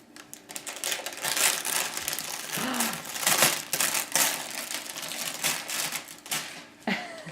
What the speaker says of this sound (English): Pull like that and tear it.